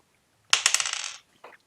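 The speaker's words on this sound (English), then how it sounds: "dropping dice everywhere" Dice dropped during a tabletop role-playing game clatter and scatter across a hard surface in a quick burst of rattling bounces, then one last small tumble a moment later.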